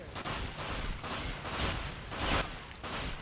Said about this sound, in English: Distracted by bullets.